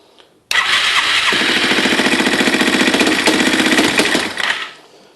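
Yamaha TW200 motorcycle engine starting abruptly, then settling into a loud, close, steady single-cylinder idle with a rapid chugging beat before it cuts off and fades.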